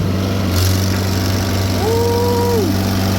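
An old vibrating plate compactor runs on gravel, its engine droning steadily and loud at close range, with a brief rising whine partway through.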